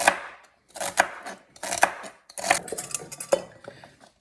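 Vegetables being chopped for lentil soup, a knife striking a cutting board in several quick bursts of sharp knocks, close and fairly loud, with brief pauses between groups of strokes.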